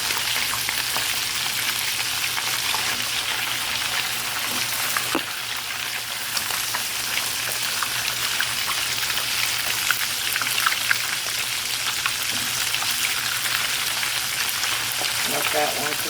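Stuffed banana peppers filled with crabmeat sizzle steadily under a low broiler, a continuous close crackling fry with scattered pops throughout and no talking.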